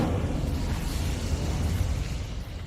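Incendio fire spell cast in the Hogwarts Legacy video game, a steady rumbling, roaring burst of flame that sustains loudly for a few seconds with no voices.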